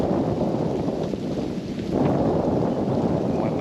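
Wind gusting at Tasik Timah Tasoh lake, a steady loud rumbling roar of air buffeting the microphone, easing briefly and then swelling again, with no voices.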